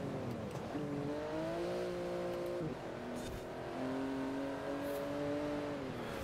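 Car engine in Forza Horizon 4, driving on snow, revving steadily with rising and falling pitch and a brief dip near the middle, loud and continuous throughout.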